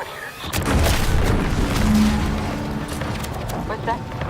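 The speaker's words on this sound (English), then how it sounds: "What's that? An explosion?" A loud, booming in-game explosion from The Outer Worlds 2 rumbles low and heavy for several seconds and dominates the mix, with a faint tonal hum and scattered crackles in the background.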